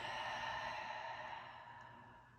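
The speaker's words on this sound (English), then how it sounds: "Big inhale, and exhale, last one" A long, soft exhale during yoga practice, a faint breathy whoosh that slowly fades over about two seconds.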